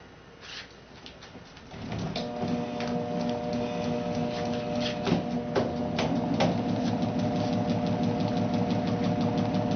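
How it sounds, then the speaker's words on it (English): Small demonstration generator spun by a prime mover, which starts after a quiet moment and settles into a steady mechanical hum with rhythmic ticking and knocking, running alone and close. "Our generator is operating. Our prime mover is rotating our magnetic field past the coil of wire"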